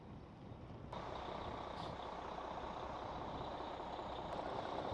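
A bus manoeuvres and reverses out of a campground, heard as a steady, broad engine rumble from some distance with a faint high tonal hint over it, continuous throughout.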